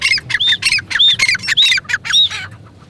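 Partridges at the crowded Lalukhet bird market in Karachi give rapid, loud, close squawking calls in a dense burst of repeated harsh notes over about three seconds, with no talk.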